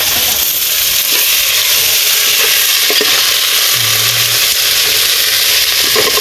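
Loud steady sizzle of vegetables being sautéed in a small frying pan, a continuous close hiss with occasional scraping stirs and no talk.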